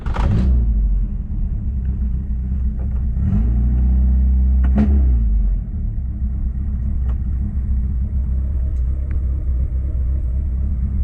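A Toyota KE30 Corolla engine runs steadily while driving down a dirt track, a loud, close, continuous rumble with a brief swell in revs midway and rattling bumps over the rough surface.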